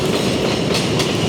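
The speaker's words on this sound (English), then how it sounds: "There's gonna always be trains in New York just going over our heads." An elevated train in New York rumbling past overhead, loud and close, a dense continuous roar with a faint rhythmic clatter of wheels.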